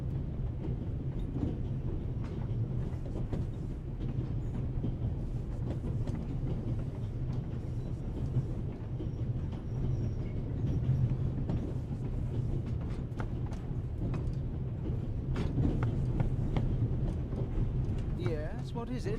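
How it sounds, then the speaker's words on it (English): A train runs steadily through the whole stretch on the Orient Express in the video game The Raven, a continuous low rumble with faint rail clatter, while people talk over it. "The noise on this train is driving me crazy."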